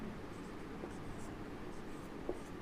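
Pen or marker writing on a board during a maths lecture on dimensional analysis, a faint steady scratching with a couple of soft taps over low room hum.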